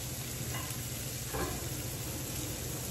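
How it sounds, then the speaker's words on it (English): Garlic in ghee sizzles in a pan over medium heat as a steady, dense hiss, moderately close and continuous, with a couple of faint stirring scrapes and no voices. "you take your garlic in the ghee"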